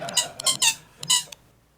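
A bed squeak sample in Ableton Live plays as five bright, strained creaks in quick succession, with a short gap before the last pair. Each squeak is clear and close, and silence follows.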